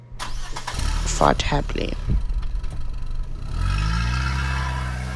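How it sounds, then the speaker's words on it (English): A noisy blue bus rumbles up, its engine loud and close, then revs and pulls away with a rising roar while a voice speaks over the start. "a noisy blue bus pulled up"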